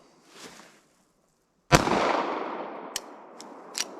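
A single sharp, loud gunshot from a pocket pistol in 9mm, .38 Special or .380 ACP cracks close by and rings out into a decaying echo, followed by a few faint clicks.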